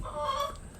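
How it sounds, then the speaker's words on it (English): A chicken clucks once nearby, a short tonal squawk over a faint room background. "Excuse the chicken."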